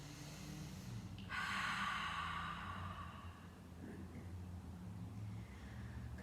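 A slow, deep breath during a seated chair yoga session, a long airy exhale that rises and fades softly, with faint low room hum underneath.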